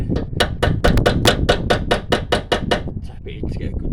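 A hammer taps an anti-roll bar link into place on a 2009 Renault Megane, a quick run of about a dozen sharp metallic knocks at a steady rhythm, then a few softer sounds of handling, close and loud.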